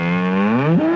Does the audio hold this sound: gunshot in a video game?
no